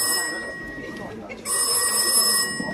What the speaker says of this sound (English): The one you can still hear ringing. Going bring, bring. That is the external phone.